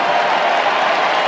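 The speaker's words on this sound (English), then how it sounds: "And listen to the love from the Eagles crowd." A stadium crowd at an AFL match between West Coast Eagles and Richmond cheers and applauds in a loud, dense, steady roar that fills the whole moment.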